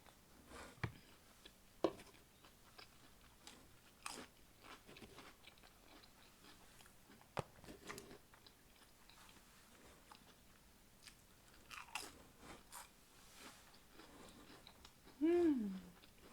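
Biting and chewing through Walmart foods during a mukbang, with quiet, intermittent crunches and mouth sounds spread irregularly over a hushed background, ending in a brief louder burst.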